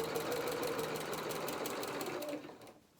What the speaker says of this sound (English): Just take a few stitches forward.